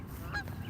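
Ducks calling in a brief, close burst of honking quacks over steady low background noise, with one louder call near the middle.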